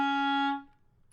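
A single sustained clarinet note, E flat, held steady for about half a second then fading out quickly, clear and close with no talking.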